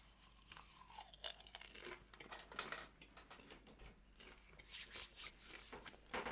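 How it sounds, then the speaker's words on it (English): Close, crunchy chewing of food, with irregular munching bites and small clicks of mouth and utensil noise running throughout and no talking. "Excuse me for the munching."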